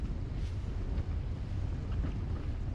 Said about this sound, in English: I'm going twice as fast now. My boat's coming out of the water, spray on both sides.